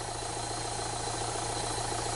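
A car engine idles steadily with a low, even hum and a faint regular pulse during an intake cleaning job. It sounds close and constant, with no voices.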